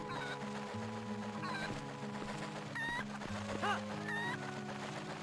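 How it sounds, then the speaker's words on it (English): A cucco chicken in the Zelda game Twilight Princess clucks in several short, bright squawks spread over a few seconds, sounding against steady game music and a low hum. "It's a chicken!"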